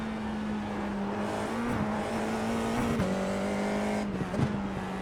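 Formula 4 race car in iRacing at Summit Point, a steady engine drone holding one pitch with brief dips on gear changes and lifts, close and continuous throughout.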